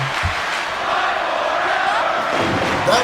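A wrestling crowd roars steadily through a women's match, a dense, sustained wash of cheering and shouting with a few thuds near the start and a brief swell at the end.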